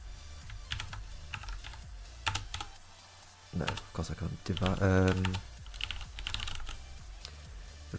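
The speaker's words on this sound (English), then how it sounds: "I am typing that in." Someone types on a computer keyboard while programming in C. Bursts of rapid key clicks come and go, with a person talking over part of the typing.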